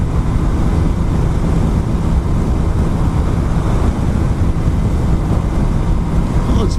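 A Honda CBR600RR motorcycle on a test ride, with a steady, dense rush of engine and wind noise filling the whole stretch at constant loudness.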